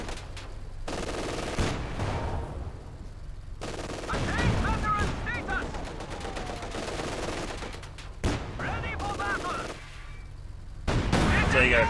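Heavy cannon shots from an IS-2 tank hitting a Puma armored car in Company of Heroes 2, several loud booming blasts amid battlefield gunfire and clatter, with talk over the action.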